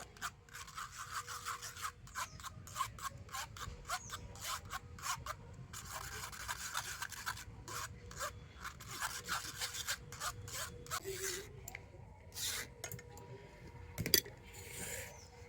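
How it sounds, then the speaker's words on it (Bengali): Mango pulp being pressed and rubbed through a sieve for sour-sweet raw mango poa pitha batter, a steady close scraping and rasping that runs continuously with brief pauses, no voices. "তো সেই জন্য আমের পাল্পটাকে একটু এরকম ছেঁকে নিতে হবে"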